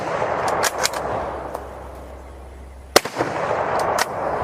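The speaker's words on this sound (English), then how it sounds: "blow up with this ridiculous muzzle blast that this thing has" Mosin-variant rifle fired with heavy muzzle blast, one sharp loud report followed by echo, with smaller clicks and handling noises around it and no talking.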